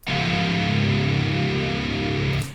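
One very low, heavily distorted C sharp on the extra-low string of an extended-range virtual guitar, Ample Sound Metal Hellrazer, rings out for about two seconds, thick and growling, then cuts off.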